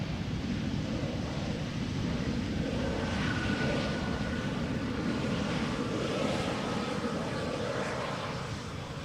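An airplane on the Polderbaan runway at Amsterdam Schiphol Airport, a steady broad engine roar with wind buffeting the microphone, distant and continuous throughout.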